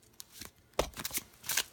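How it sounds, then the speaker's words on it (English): Gaian Tarot cards shuffled by hand in three quick riffling bursts, each a crisp flutter of card edges, close and fairly quiet, with short pauses between. "let me give you guys another shuffle"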